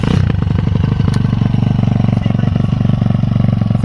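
A YCF Sunday flat track motorbike with a 190 Daytona engine starting and running, with a loud close steady single-cylinder putter and mechanical clatter throughout.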